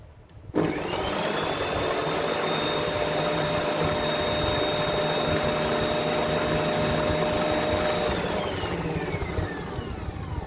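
Electric mixer beating yogurt, sugar and milk powder into a cream, a steady loud motorized whir with a high whine that starts abruptly and runs unbroken throughout.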